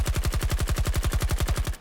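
Rapid automatic gunfire in Battlefield 2042, a steady stream of about twenty evenly spaced loud shots, each with a heavy low thump and bright crack, sustained without pause.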